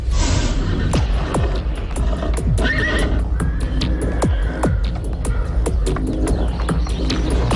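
A horse whinnies and neighs repeatedly at close range while its hooves clip-clop and shuffle steadily near a stable, with faint birdsong in the background.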